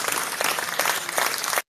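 A crowd applauds in a live online talk session, a dense burst of clapping that holds steady for under two seconds and then cuts off abruptly.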